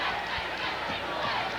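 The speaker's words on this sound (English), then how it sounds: "Crowd rather subdued right now because of the margin in this one." Murmuring crowd at a 1986 Illinois high school boys basketball semifinal, a subdued, continuous indoor hum of voices with faint scattered thuds, steady and moderately distant throughout.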